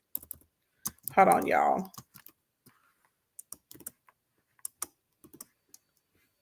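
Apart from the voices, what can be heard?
typing on a computer keyboard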